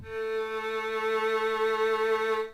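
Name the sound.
violin playing A note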